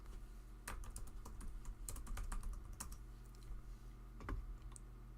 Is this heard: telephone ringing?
no